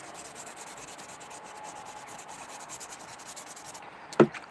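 Wet sanding with 1000-grit sandpaper on a sling makes a steady, soft rhythmic rubbing up close, ending in one sharper scrape.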